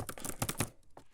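Quick bursts of typing on a computer keyboard, a short flurry of close, crisp key clicks that thins out into a few scattered taps.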